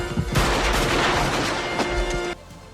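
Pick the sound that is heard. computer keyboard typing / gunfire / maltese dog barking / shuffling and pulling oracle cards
gunfire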